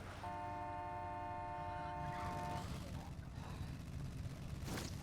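A muscle car horn in the video game State of Decay blares in one sustained honk for about two seconds, faint and tinny over a low rumble, followed by soft noise and a brief breathy burst near the end.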